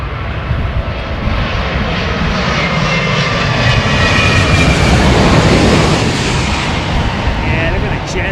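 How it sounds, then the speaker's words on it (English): A Boeing 787 Dreamliner passes on approach to Heathrow runway 27, its engines a loud, steady roar with deep low rumble that swells slightly mid-pass and holds throughout; a voice speaks briefly over it. "Oh, look at this Dreamliner."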